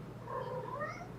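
A cat meowing in a single drawn-out, wavering cry, fairly quiet against a low background hum.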